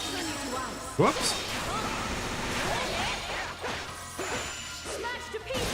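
In the action RPG Ys IV: Memories of Celceta, a loud crash opens as objects are smashed to pieces, followed by clattering whooshes and swishes of combat mixed with voice sounds.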